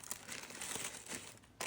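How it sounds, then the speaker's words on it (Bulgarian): Baking paper being peeled away from a freshly baked trileçe sponge, a continuous close crinkling and rustling that briefly eases and then swells again at the end. "и премахвам хартията за печене."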